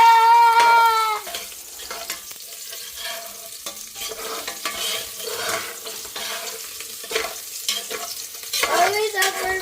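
Ginger sautéing in a pan for chicken tinola, a steady sizzle with stirring scrapes throughout, with a brief higher whistling tone at the start and end.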